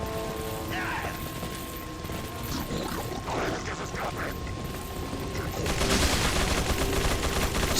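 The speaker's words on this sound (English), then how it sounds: "Sounds like he's shooting them for me right now" Gunfire in the Resident Evil 4 video game, a run of rapid shots and mechanical clatter over a steady background mix, growing louder and denser toward the end.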